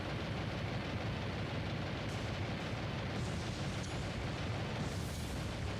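Naval combat in the War on the Sea video game, with a dense, continuous roar of booming explosions and rumble from torpedoes striking a merchant ship, loud and sustained, swamping any other detail.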